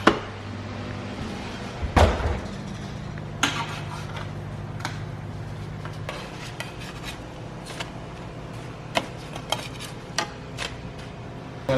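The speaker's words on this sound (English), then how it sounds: "We're gonna go ahead and flip these cutlets." Eggplant cutlets being flipped on a pan with an oven nearby: scraping and rubbing of a utensil, a clatter of metal cookware, then scattered light taps and clinks over a low steady hum, no talk.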